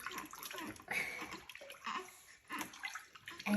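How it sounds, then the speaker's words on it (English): Bathwater slopped over a baby in a traditional bath, sloshing and splashing close by in uneven bursts across a few seconds. "And then you just slop the water over."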